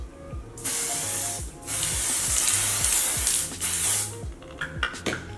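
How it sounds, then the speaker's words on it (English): Dior Air Flash Radiance Mist setting spray hisses out in several bursts of fine mist, near and fairly loud, each a sustained spray of a second or so separated by short gaps, with faint background music. "Time to set the makeup, and I'm going to be using this Dior Air Flash Radiance Mist"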